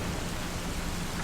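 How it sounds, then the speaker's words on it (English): Steady, even wash of rain falling continuously, a dense broadband hiss with a faint low rumble underneath, no voices. "Man, this rain makes me so sleepy."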